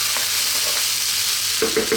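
Vegetable fried rice being stir-fried in a pan, with a steady close sizzle and scraping stirs, and a few louder tossing clatters near the end.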